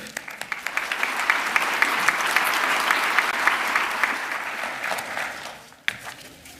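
An audience at a college commencement ceremony in a fine arts hall claps loudly and continuously, a dense wash of applause that fades out near the end.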